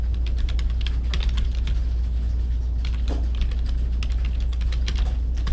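Rapid, steady clicking of computer keys being typed, with irregular bursts of keystrokes heard close up over a constant low hum and no talking.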